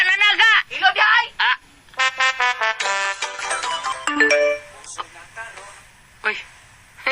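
A phone ringtone or message alert plays loudly in repeated melodic bursts, with a voice speaking over and between the tones.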